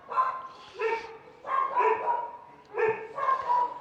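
Gustav and another dog barking at home, left alone, in repeated clusters of sharp, loud yips and barks with short pauses between bursts.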